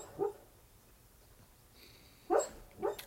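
A sleeping female dog whimpers and yips softly in three brief, faint bursts, with long quiet gaps between them and no talking.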